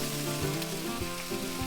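Trout steaks fry in a hot pan, giving a steady, close crackling sizzle with small pops throughout and no talking.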